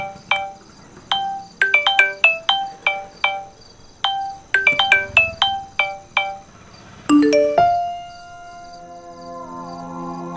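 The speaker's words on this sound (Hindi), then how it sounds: "सौरभ तुम्हारा फोन आ रहा है।" A melodic phone ringtone chimes in a quick repeating pattern of bright tones, ringing several times in a row before a sustained tone takes over near the end, clear and alone with no talk.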